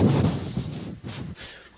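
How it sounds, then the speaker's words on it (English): A staged explosion goes off about 300 feet behind and slightly to the left, heard as a deep booming rumble that swells and rolls on for nearly two seconds with no voices over it. "An explosion has gone off about 300 feet behind me and a little to my left."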